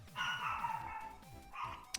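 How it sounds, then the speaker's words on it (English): A Chihuahua yaps in quick, repeated barks, a rapid run of sharp yips followed by a shorter burst, close by with faint game sounds behind. "damn Chihuahua won't shut up"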